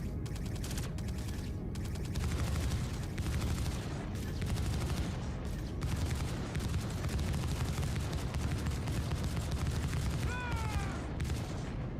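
Ship turret guns fire from side gunner positions in the Star Citizen space game, a dense, continuous barrage of rapid shots with booming impacts throughout, loud and steady with no talking.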